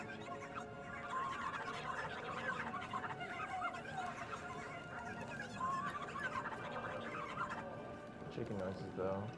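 Chicken clucking from Zelda: Twilight Princess, a busy run of game clucks and fowl calls layered over steady background game sound, moderately loud and continuous for several seconds.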